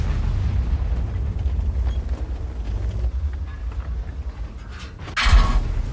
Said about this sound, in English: Puts a round into the Udez again.